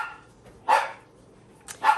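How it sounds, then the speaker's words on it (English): Two sharp dog barks ring out indoors, one near the start and another at the end, with near silence between them, loud and fairly close to the listener. "As soon as I go to film, the dogs have to bark or play or something."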